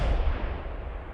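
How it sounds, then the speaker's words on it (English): A firework goes off in a Simon-says-style mobile arcade game: a single deep, booming blast that rolls and fades out over about a second. No voices are heard. "tap or drag to light fireworks in the order they appear"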